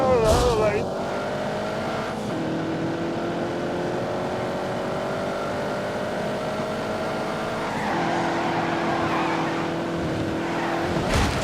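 A race car in The Grand Tour Game roars close up, its engine pitch climbing and dropping through gear changes in repeated sweeps. It revs hard and continuously from start to finish.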